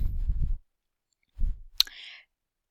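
A single sharp computer mouse click in ArcGIS Pro, close and crisp, followed by a brief faint rattle, between short low murmurs of a voice.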